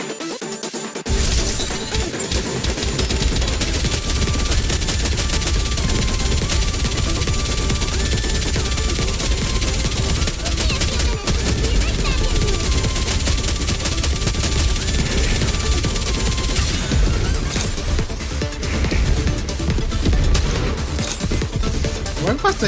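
Gunfire in the video game Goddess of Victory: Nikke: dense, continuous rapid shooting with crashing impacts filling the whole stretch, loud and unbroken, with game music and voices faintly mixed underneath.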